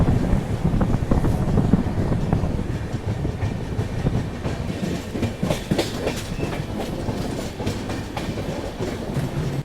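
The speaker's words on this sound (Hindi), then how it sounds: "ये है सियालदा अजमेर एक्सप्रेस" The Sealdah Ajmer Express rumbles past up close in India, a loud continuous roar of wheels and wagons with rhythmic clatter and buffeting wind noise on the microphone.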